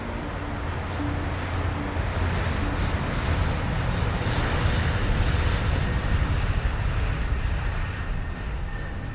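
Steady airplane cabin engine drone in a radio drama aboard a passenger flight, a continuous low roar with broadband hiss holding evenly throughout and no voices over it.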